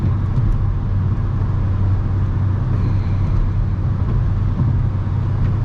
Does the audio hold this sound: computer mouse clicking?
no